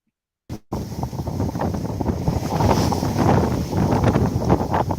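Strong, steady wind roars across the microphone while sailing a boat on an offshore leg heading north along the west coast. It is loud and continuous, with gusty swells and some water wash underneath, and it starts abruptly after a brief silence.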